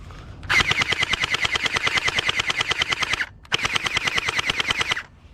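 A Bwine M3A1 gel ball blaster fires full auto in two sustained bursts of rapid, evenly spaced, sharp cracks, with a brief pause between them; close and loud, no talking.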